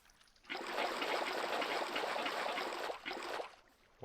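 Water flows in the Minecraft video game with a soft, steady trickling rush that starts abruptly, holds for about three seconds, dips briefly, and then fades.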